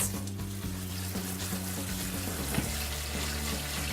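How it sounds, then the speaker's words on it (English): Canned black, pinto and kidney beans being rinsed and shaken under a running kitchen sink tap, a steady close hiss of water with faint metallic rattles of the beans and strainer throughout. "you can see all the liquid from the beans draining off in the sink there"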